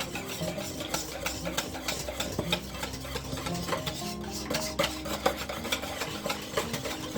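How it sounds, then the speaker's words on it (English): Cinnamon roll ingredients are stirred in a bowl, giving a steady scraping and rubbing with small clinks of utensil against the bowl, close and continuous without talk. "mix that all up really good"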